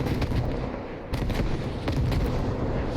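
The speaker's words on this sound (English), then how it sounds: "here comes a moving barrage" A moving artillery barrage sweeps through a competitive multiplayer war-game match, a steady rolling rumble of distant booms and blasts with sharper explosive cracks around one and two seconds.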